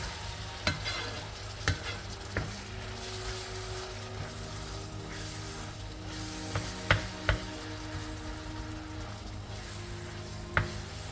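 Beef mince sizzles steadily in a hot pan while a utensil stirs and scrapes it, with a few sharp clinks of metal on the pan rising over the continuous frying hiss.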